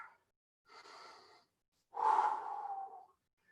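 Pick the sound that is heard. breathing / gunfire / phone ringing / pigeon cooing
breathing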